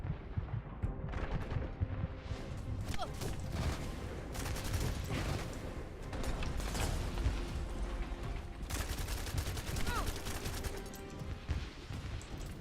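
Weapons fire in The First Descendant on hard mode: dense, rapid bursts of shots crack on without a break, loud and near, with mechanical clatter mixed through the volley.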